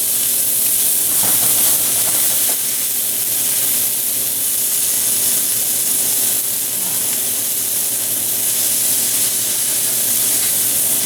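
Leftover steak and egg ingredients fry loudly in a hot pan, a dense, continuous hissing sizzle that stays steady and close throughout, with no talking.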